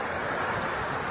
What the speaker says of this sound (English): There's pretty small waves to begin with. But the tide's rolling in.